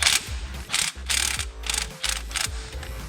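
A ratchet wrench loosening transmission bracket bolts on a 10th-gen Honda Civic 1.5T, working in several quick rapid clicking bursts close up, separated by short pauses, with low mechanical rumble beneath.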